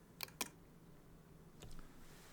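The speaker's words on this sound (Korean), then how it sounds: "이걸 한번 클릭을 해볼게요." Two quick, crisp mouse clicks close together on a switch button, with a fainter click a moment later in a quiet room.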